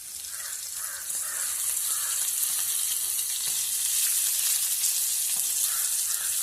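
Fish shallow-frying in hot oil on a medium gas flame, a steady loud sizzle with crackling spatter throughout and no talking.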